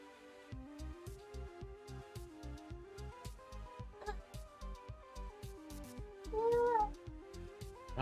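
A cat gives a short meow near the end, partly buried under loud, rhythmic music with a steady beat.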